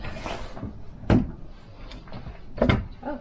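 A medicine cabinet door in an RV bathroom is worked by hand, giving a few close, soft knocks and clicks of the door opening and closing, with quiet handling noise in between.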